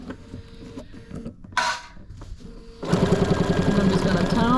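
A Bernina 770 sewing machine stitches a quilt binding with dual feed: quieter handling noises and a brief rustle give way to a loud, steady, rapid mechanical stitching rhythm that runs to the end.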